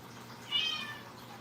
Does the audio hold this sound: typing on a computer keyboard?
no